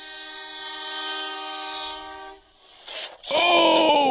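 A train horn blares a long, loud chord from a played video clip, then breaks off into a brief rush of wheels and a harsh metallic squeal as the train passes on the tracks.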